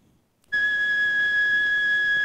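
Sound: flute playing note A

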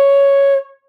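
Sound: flute playing the note C

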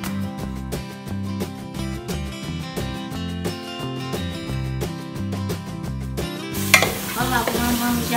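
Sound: sausage cooking with stirring and sizzling

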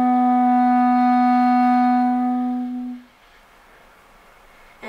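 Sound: clarinet playing the note C sharp

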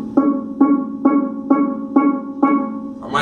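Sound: steel pan note C sharp played

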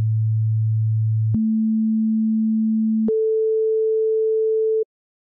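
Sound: sine wave from FL Studio 3x Osc oscillator, A note

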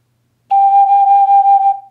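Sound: single G note played on an ocarina in C

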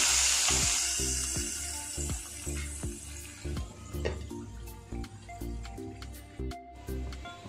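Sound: tempering spices sizzling in hot oil

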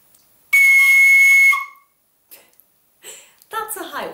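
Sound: tin whistle playing a high C sharp

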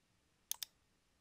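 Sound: computer mouse click

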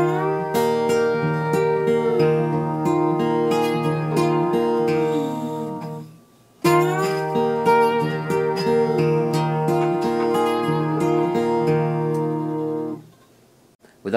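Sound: slide guitar on B and E strings, muted behind slide

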